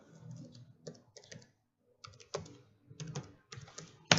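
Bursts of quick, close keystrokes on a computer keyboard, typed in short irregular runs separated by brief pauses, with one sharper key hit at the end, quiet and with no talking.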